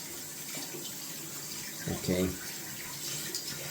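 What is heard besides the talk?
running tap water to wet a shaving brush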